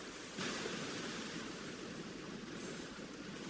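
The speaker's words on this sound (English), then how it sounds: "Water is rising." Rising water in the Genshin Impact video game makes a broad, steady rushing wash like surf that swells slightly near the start and holds even and moderately quiet throughout.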